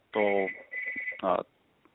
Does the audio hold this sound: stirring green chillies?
no